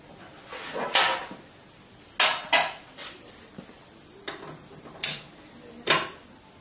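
An oil drain plug is refitted on a Henkelman Boxer vacuum packing machine: a series of sharp metallic clinks and taps, spaced irregularly over several seconds, close and fairly quiet, with soft handling noises between them.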